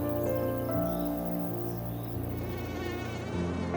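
A mosquito buzzes close to the ear in a steady, loud, high-pitched whine that shifts slightly in pitch as it hovers.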